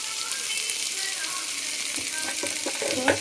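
Bitter gourd seeds frying with onion in oil, a soft steady sizzle with a few faint stirring clinks near the end.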